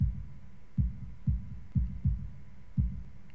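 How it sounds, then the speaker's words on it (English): A heartbeat sound effect in the visual novel Katawa Shoujo pulses as deep, muffled thumps, some paired, at a steady slow rhythm, about six beats close and alone over a soft hum. "Heartbeat."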